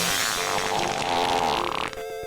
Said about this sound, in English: Yeah, I can hear fart song.